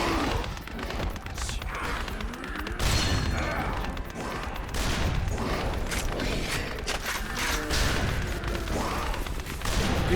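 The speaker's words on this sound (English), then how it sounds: "You shoot the Dipteras." Gunfire against Dipteras in the video game Yakuza Dead Souls: dense, continuous bursts of shots mixed with crashes and mechanical clatter, loud and chaotic throughout, with game voices mixed in underneath.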